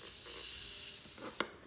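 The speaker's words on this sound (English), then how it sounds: "Do you hear the gas escaping?" Gas escaping from a poked balloon, a soft continuous hiss that runs for over a second and ends with a sharp little pop, faint and close.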